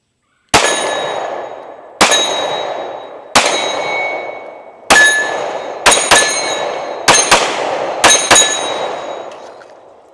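A Glock 43X pistol fires ten sharp, loud shots, close by, in slow singles and then quick pairs. A bright metallic ring hangs after each one, and no one speaks.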